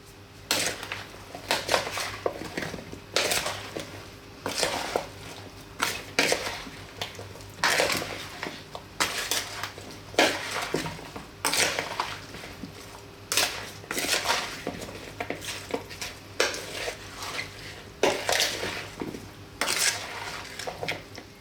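Vegetables, herbs and olive oil being tossed together by hand in a bowl for roasting alongside chicken and potatoes, giving a steady run of close clattering and knocking against the dish with brief sharp clinks throughout.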